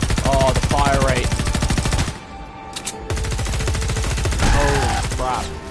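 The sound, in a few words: rapid gunfire in Fortnite Save the World video game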